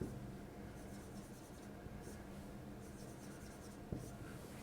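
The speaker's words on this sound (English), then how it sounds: "I'm just going to draw 4 quarter notes in there." Faint scratching of a pen drawing quarter notes on a music staff, steady soft strokes with one small tap near the end, close and quiet with no voices.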